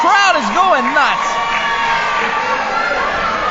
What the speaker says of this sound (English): This crowd is going nuts.